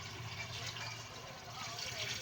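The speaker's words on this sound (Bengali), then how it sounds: "জলটা ফেলে দিলাম, এবার চালটা দিয়ে দিলাম।" Soaking water is poured off rice in a kitchen, a soft continuous splashing pour at low volume with no voices.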